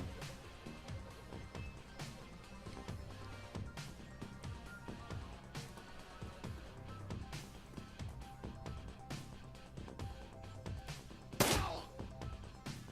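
One brief, sharp gunshot in the Shadowrun Returns turn-based video game, bursting out late above continuous game music.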